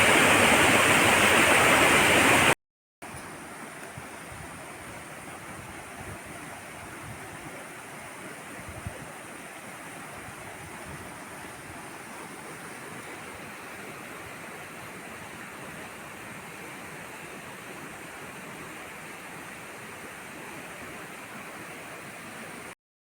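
Durgadhara waterfall pouring through forest at Amarkantak, a steady broadband rush of falling water that continues unbroken and fairly close after a brief louder burst at the start.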